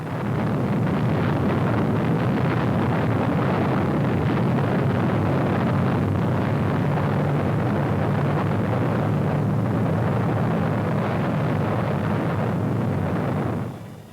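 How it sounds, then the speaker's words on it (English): A 1946 atomic bomb test explosion, heard as a loud, sustained rumbling roar with heavy low-end blast noise and wind-like buffeting that lasts several seconds before cutting off abruptly. "A new atomic bomb, more powerful than its three predecessors, was being launched upon a world that watched and wondered"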